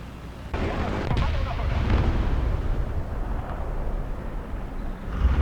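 Gunfire in the War Thunder tank game, heavy booming blasts and a dense rumbling roar that swells and lingers close and loud, with a voice talking over it.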